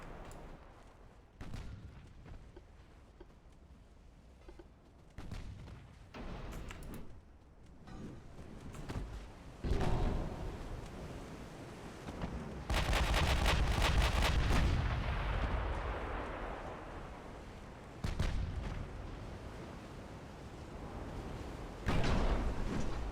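Naval guns firing high-explosive shells in the warship game Ultimate Admiral: Dreadnoughts, a string of heavy booming reports at irregular intervals, some overlapping into a longer rumbling salvo, moderately loud.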